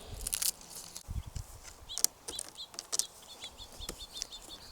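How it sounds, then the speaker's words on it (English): Chickadee and other small birds chirping outdoors in a garden, with repeated short high tweets scattered throughout, some brief louder chirps near the start and middle, over light rustling and background activity. "I hope you're enjoying all the bird song in the background"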